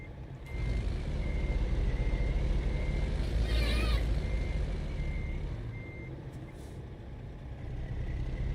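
In American Truck Simulator, a heavy truck's reversing alarm beeps steadily over a loud, low diesel rumble, with a short burst of engine or air noise in the middle.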